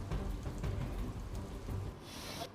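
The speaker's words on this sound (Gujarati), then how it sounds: "સુરતના કતારગામ, વરાછા, પાંડેસરા સહિતના વિસ્તારોમાં વરસાદ વરસી રહ્યો છે" Heavy monsoon rain pours down in Surat, Gujarat, a dense, steady wash of noise with low rumbling underneath and no voices.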